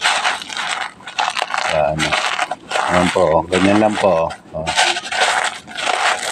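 Dried eggshells crushed by hand, with dense crackling and crunching bursts close up while someone talks over them.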